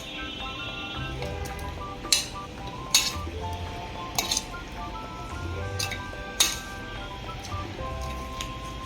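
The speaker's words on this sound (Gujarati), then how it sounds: "હવે આ બધાને મસાલો મિક્સ કરવાનો છે." A spoon clinks and scrapes against a bowl while masala and groundnut oil are mixed into a sprout salad, several sharp metallic knocks over a steady soft stirring rustle.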